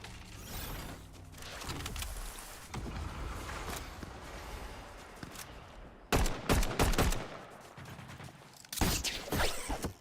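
Rifle shots in the video game Fortnite, a few loud sharp bursts cutting through a dense layer of mechanical game noise, with clusters of reports after a long steady stretch.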